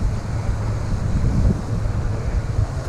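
Strong wind rips across a pond and buffets the microphone in low, gusty rumbling bursts, loud and continuous, with no talk.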